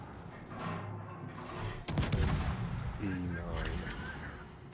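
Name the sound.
enemy ship gunfire in video game World of Warships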